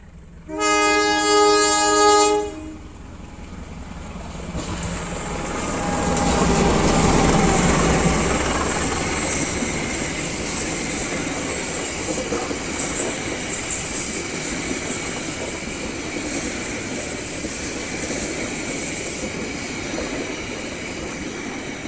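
A Garut commuter train near Cicalengka on a newly built double-track line opens with a loud, sustained horn blast, then rumbles past as a long swell of wheel and carriage noise that fades only slightly.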